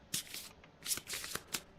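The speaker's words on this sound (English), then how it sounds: "Let's give it a triple shuffle." A deck of cards for the board game Kingdom Death is shuffled close up, three quick riffling bursts of crisp flapping cards in a row, with no talking over them.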